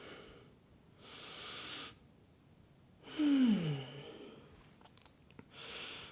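Deep breaths drawn through the nose during a yoga class: several soft, airy inhales and exhales in a slow, steady rhythm, close and fairly quiet, with one fuller sigh-like breath in the middle and no talking.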